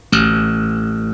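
A bass guitar open A string struck with a thumb slap, giving a single sharp attack that then rings out steadily and sustains without fading much, with no voices.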